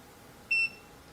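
A VEVOR 12-inch foldable oscillating standing fan gives a single short, clear electronic beep as its timer is set, alone against a quiet background.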